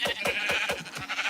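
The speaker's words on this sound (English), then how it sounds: "I've just never seen so many sheep in one place." Several sheep bleating in Minecraft, about five short nasal bleats in a quick irregular run from a crowded flock, close and fairly loud with no talk over them.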